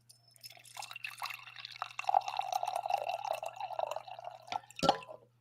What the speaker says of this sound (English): I have done plenty of coffee pours, but I can give you one more to welcome you on stream